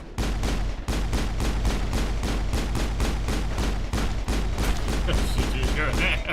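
Rapid gunfire from a shooting minigame in Mass Effect, with dense, continuous volleys of shots rattling on steadily for several seconds at a loud, even level.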